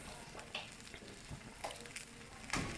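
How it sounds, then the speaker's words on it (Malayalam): Kerala porotta dough laid onto a hot oiled tawa gives a low, steady sizzle with a few soft crackles and pops, close by and moderately quiet, with no talking. "എന്നിട്ട് നമ്മൾ ചൂടായി കിടക്കുന്ന തവയിലോട്ട് നമ്മളിതുപോലെ പൊറോട്ട അങ്ങോട്ട് ഇട്ട് കൊടുക്കണം."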